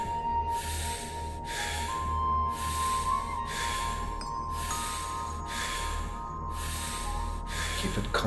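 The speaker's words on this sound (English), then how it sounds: "Keep the breathing connected" Deep, connected breathing during a guided breathwork meditation session, with loud broadband breath bursts repeating at a steady pace of about one per second, without pauses, over a low steady hum.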